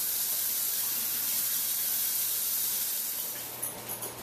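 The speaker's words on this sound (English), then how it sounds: "now we're just waiting for this to get up to a boil here" A pot of pickling liquid heating toward a boil gives off a steady, broad hiss like steam or spray, fading and turning patchier near the end.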